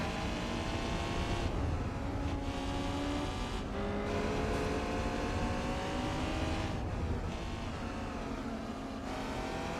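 A Japanese car engine in Gran Turismo 4 drives on comfort tires, revving up and down in repeated climbs with brief drops between gear shifts, loud and close, with no talking.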